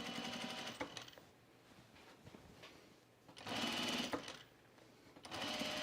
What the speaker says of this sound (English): we are going to stitch down this facing to the body of the garment